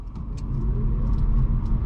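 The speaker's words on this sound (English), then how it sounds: "Let's try out the acceleration on the Leaf" A 2019 Nissan Leaf electric car pulls away from a dead stop, giving a steady, smooth low hum and road rumble that grows a little louder as it picks up speed, with no voices.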